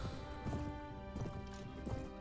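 Horse hooves clip-clopping in the medieval combat game Mount and Blade: Warband, a few soft, irregular hoof thuds near a cavalryman's mount, moderately quiet over game ambience.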